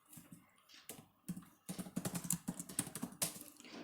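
Quick bursts of typing on a computer keyboard while writing code for a TensorFlow deep learning model, close, fast irregular clicks with brief pauses, no speech.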